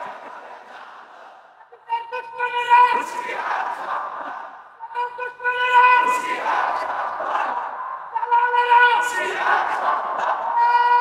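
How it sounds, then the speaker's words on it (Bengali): A large crowd at an Islamic religious gathering chants slogans in loud rhythmic unison, three rising waves of massed voices with brief dips between them, echoing and sustained. "এরা এত কষ্ট করে স্লোগান দেয়"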